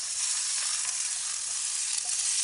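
Mushrooms sizzle steadily in a hot pan as part of a pasta dish, a dense, even crackle of frying that holds constant and close throughout, with no voices over it.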